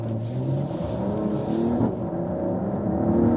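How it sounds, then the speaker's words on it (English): Mercedes-AMG GLE 53 coupe accelerating hard in Sport Plus mode, a close, steady engine rumble that rises in pitch as it pulls, with no talk over it. "I'll put to the Sports Plus mode and let's accelerate it out."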